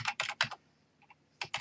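Keys on a computer keyboard are tapped in a short burst of crisp clicks while a virtual machine name is entered, followed by a pause and a few more keystrokes, close and quiet.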